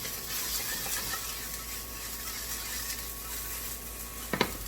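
Vegetables are stir-fried in a pan with a little salt, a steady low sizzle throughout and a couple of brief scraping or tapping stirs near the end, close and fairly quiet.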